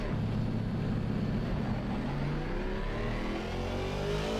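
A BMW 3 Series engine revs steadily in a driving simulator game, a continuous loud mid-pitched drone with rising tones as it accelerates, no voices over it.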